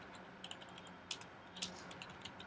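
Faint, irregular keystrokes clatter on a computer keyboard while Swift code is typed in Xcode, a few sharper clicks standing out from a soft steady run.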